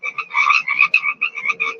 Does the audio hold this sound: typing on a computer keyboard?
no